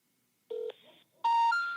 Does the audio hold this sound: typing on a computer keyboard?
no